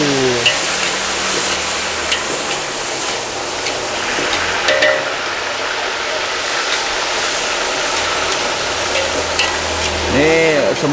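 Gami fish frying in hot oil at an Indonesian food stall, a loud continuous sizzle and crackle with occasional clinks of utensils and faint background voices.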